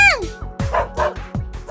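A dog in the visual novel I/O gives a string of short, high yips and barks in a quick, uneven rhythm, close and fairly loud.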